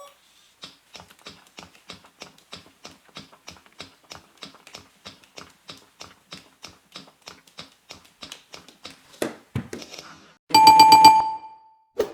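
An autonomous robot juggles ping-pong balls in a steady train of small, regular clicks and taps, close and distinct. They speed up into a clatter near the end, followed by a brief ringing electronic tone.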